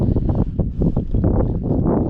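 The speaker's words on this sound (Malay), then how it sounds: "Angin tiup." Strong wind buffets the microphone on a kayak fishing trip on the water off Melaka, a loud, gusty rumble with irregular surges and no talk.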